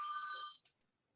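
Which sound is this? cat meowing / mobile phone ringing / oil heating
mobile phone ringing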